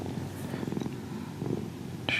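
A cat purrs steadily up close with a soft continuous rumble, a faint brushing texture mixed in and a brief brighter scrape near the end.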